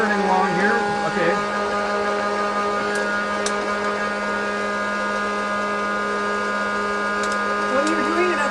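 A popcorn air popper roasting coffee beans at home gives a loud, constant motorized whir with a steady hum, continuing evenly throughout while voices speak briefly at the start and near the end.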